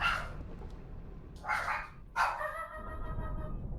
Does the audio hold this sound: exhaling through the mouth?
no